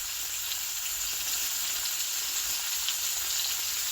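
Beef sausage dogs and onions frying in a pan, a steady, even sizzle with a constant bright hiss and no voices.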